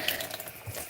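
A faucet runs at home, a short steady splash of water into a sink, fairly quiet and close, with no talking.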